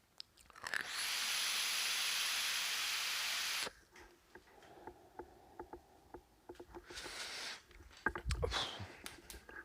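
An iJoy Tornado RDTA is drawn at minimum airflow with the power at minimum, giving a steady airy hiss for about three seconds, followed by soft clicks, handling noises and a second, shorter draw.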